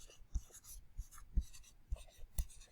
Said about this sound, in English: I'm going to go ahead and write that word as well